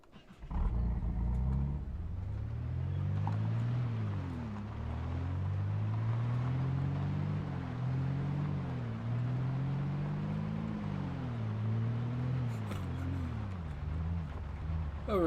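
A car engine idles and revs in the Project Zomboid video game, Build 41, a low droning hum with rising and falling pitch that holds for about fifteen seconds before cutting off.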